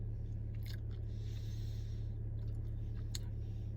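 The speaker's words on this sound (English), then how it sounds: "I'm chewing some nicotine gum." Nicotine gum being chewed close to the mouth: soft, wet, rhythmic smacks and squishes over a steady low background hum, with a couple of sharper clicks.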